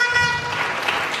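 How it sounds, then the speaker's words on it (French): An audience claps at a sermon, a short burst of mixed applause that fills the room loudly and evenly, with a raised voice cutting through above it. "Acclamons quand même pour des bons ministres."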